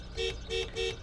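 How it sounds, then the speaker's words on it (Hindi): A Toyota Fortuner Legender 2.8 automatic 4x4 from 2025 sounds its horn in three short, thin, reedy beeps at an even pace, close by with no talking. "ये हॉर्न है इसका, पी लगता है कि अल्टो वल्टो ही चल रही हो"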